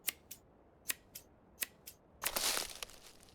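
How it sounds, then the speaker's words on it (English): Scissors snip cannabis buds in the video game Schedule 1, six crisp, evenly spaced clicks, quiet and close, followed by a longer crunching rustle. "Harvest 8 buds. We just snip them off."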